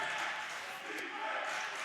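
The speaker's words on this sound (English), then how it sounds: "And listen to this crowd." Crowd noise fills a basketball game between the NC Capitals and Florence Wildcats, a steady broadband roar of cheering from a packed gym that holds level throughout, no announcer speaking over it.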